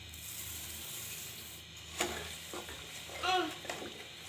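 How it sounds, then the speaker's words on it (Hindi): Tomato paste for homemade ketchup simmers in a pan over low heat, giving a soft, continuous bubbling hiss broken by a few brief stirring scrapes and clinks, with no talking. "टमाटरों के पेस्ट को हल्की आंच पे पकाएंगे"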